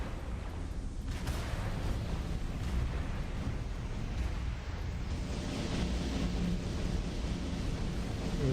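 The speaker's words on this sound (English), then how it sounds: "This must be cannon." Cannon fire in the space combat game Freespace 2 with the Wings of Dawn mod comes as a sustained, rumbling roar of heavy blasts, fairly loud and steady throughout with no clear pauses.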